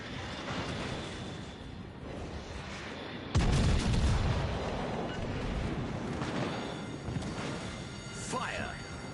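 Naval guns fire in World of Warships Legends: a sudden heavy boom hits about a third of the way in, then a long rumbling tail over constant battle noise, with a voice talking throughout.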